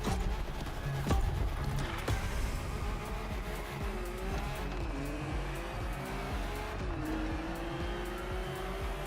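A rally car's engine revs loudly and continuously up close, with shifting pitch as it accelerates and changes gear, with some tire noise mixed into the steady roar.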